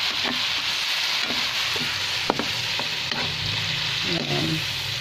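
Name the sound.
stirring fatty meat frying with soy sauce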